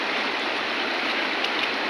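A river at Lebri village in Arunachal Pradesh rushes in a steady, dense, close-up wash of flowing water.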